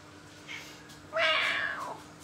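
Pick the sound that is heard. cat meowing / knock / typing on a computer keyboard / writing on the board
cat meowing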